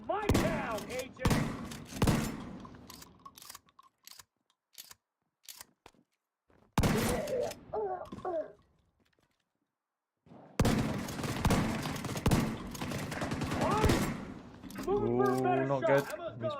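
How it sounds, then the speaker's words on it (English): Shotgun blasts in the video game The Division 2, heavy bursts of gunfire arriving in clusters separated by near-silent gaps, mixed with game effects and someone talking. "Time for the shotgun."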